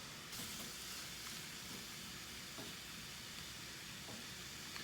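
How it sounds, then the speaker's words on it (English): Beaten egg scrambles in a pan for vegetarian pad thai, giving a faint continuous sizzle and hiss with light stirring. "Add your beaten egg in there. And we'll scramble it."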